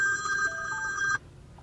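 Incoming phone call ringing through a Bluetooth car kit in a 2002-2006 Toyota Camry: a bright electronic ringtone that plays steadily for about a second, then cuts off, leaving quiet cabin hum.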